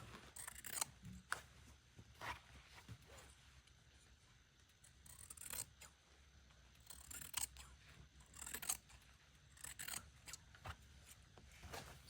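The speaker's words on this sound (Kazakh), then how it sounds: "Так, мына жақта тағы да қиып тастаймыз." Scissors snip repeatedly through paper while a Kazakh ornament pattern is cut out, with close, crisp irregular cuts and brief pauses; no one talks.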